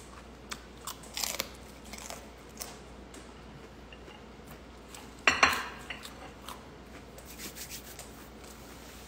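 Crunchy pork rinds bitten and chewed up close, with scattered crisp crackles and one louder burst of crunching against a quiet room background.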